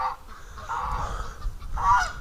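A goose in a pen honks several times, close and clear: a drawn-out nasal call at the start, a long wavering one in the middle and a sharper honk near the end.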